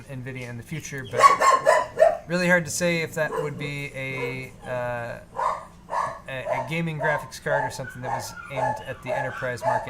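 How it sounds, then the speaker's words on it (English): Several dogs barking, yipping and whining at night in a home, loud and close with irregular bursts of barks running under someone talking. "Sorry about the dogs."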